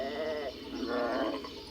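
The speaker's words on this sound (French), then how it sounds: "5 moutons tonton-tontaine, jouent, rient et bêlent." Sheep bleat in a meadow, with a close, wavering, nasal cry that breaks into a second quavering call. The calls are heard alone and fairly loud.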